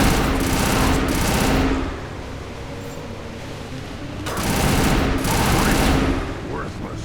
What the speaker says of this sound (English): Firing a high-impact shot.